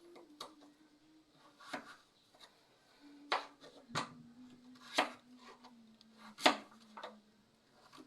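A kitchen knife slices squash on a wooden chopping board in a few separate, sharp knocks spaced a second or so apart, close and crisp over a faint low hum, with no talk.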